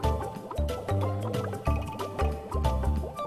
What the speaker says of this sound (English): That obviously has some air in it because it's making bubbles.